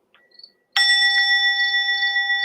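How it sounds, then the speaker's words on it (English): A meditation bell struck once to open a morning session, ringing out loud and sustained with a bright, steady tone that hangs for a couple of seconds after a faint softer tap just before. "Yes, the bell."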